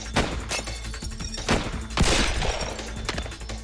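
Webley revolver fired in a timed shooting drill, a burst of sharp, loud shots in irregular quick succession, with echoing reports and a dense gunfire texture throughout.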